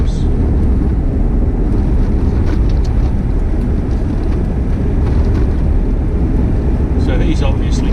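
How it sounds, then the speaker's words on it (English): A mining vehicle on an outback road in Australia, a steady loud rumbling roar with heavy wind buffeting throughout, the engine noise holding constant as it passes nearby. "Mining vehicle, of course."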